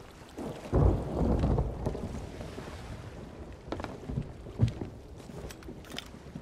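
Thunder rumbles loudly from a storm at sea in the pirate video game Sea of Thieves, a deep rolling burst followed by lighter crackles and rain-like hiss, with no voices.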